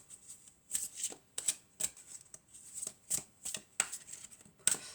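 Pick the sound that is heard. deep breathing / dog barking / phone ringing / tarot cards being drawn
tarot cards being drawn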